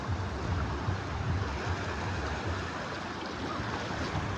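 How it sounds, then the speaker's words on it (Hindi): The Gorra river in flood rushes fast and loud, a dense, continuous roar of churning water that holds steady throughout with no voices. "ओरिजिनल साउंड है गोर्रा नदी का"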